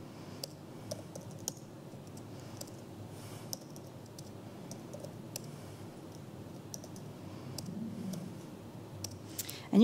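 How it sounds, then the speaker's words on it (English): Code being typed on a computer keyboard, a run of sparse, quiet key clicks and taps at an irregular pace with a low background hum, nearby and alone. "I can't type and talk at the same time"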